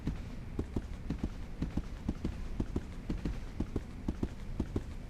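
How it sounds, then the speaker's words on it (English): Odd, clopping footsteps in Yakuza 4 Remastered, a steady run of hollow knocks, almost hoof-like, close and fairly even in rhythm over a low ambient bed. "Why do your footsteps sound like that?"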